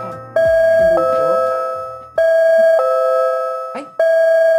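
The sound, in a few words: doorbell ringing to signal a new segment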